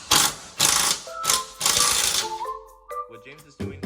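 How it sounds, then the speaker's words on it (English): An impact wrench with a 17mm socket rattles in loud bursts while removing four bolts during a rear suspension swap on a 2011-style VW Jetta MK6, then quieter ratcheting and mechanical clicks follow. "what James is doing is using a 17-inch impact, a 17mm impact socket and an impact to take out 4 bolts"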